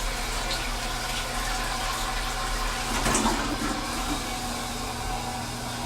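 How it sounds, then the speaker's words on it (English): Water runs steadily from a tap while someone washes their hands, a continuous close splashing hiss with a brief louder surge midway and no speech. "Let me wash my hands."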